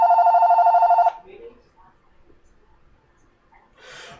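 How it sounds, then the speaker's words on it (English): Telephone ringing with a bright, pulsing electronic trill for about a second, loud and close, then cutting off into near silence with faint rustles and a brief voice. "Answer the phone!"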